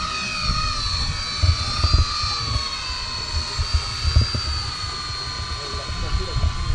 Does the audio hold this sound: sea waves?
no